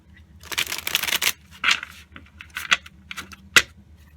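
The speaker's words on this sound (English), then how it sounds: "Going to be pulling 3 cards" Tarot cards being shuffled and drawn close up, with a long dense burst of riffling and then several short, sharp snaps and slides as single cards are pulled, no talking.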